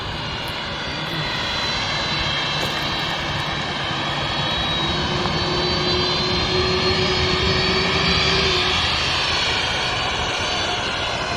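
An airplane engine spools up at an airport for takeoff, a loud, steady roar with rising whine that holds for several seconds, heard from nearby outdoors.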